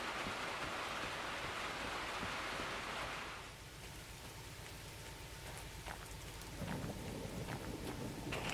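A rainstorm with thunder in a train video game: steady heavy rain hisses throughout, with a long rolling rumble of thunder at first, then fading into pattering rain with occasional drips and a later low rumble.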